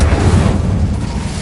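Incendio fire spell in a Harry Potter video game on PS5: a short, loud, rumbling burst with a crackling roar, like a fiery eruption, lasting about a second and a half.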